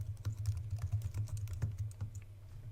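Steady rapid keystrokes on a computer keyboard, close and moderately quiet, clattering in a continuous uneven rhythm with no voices over it.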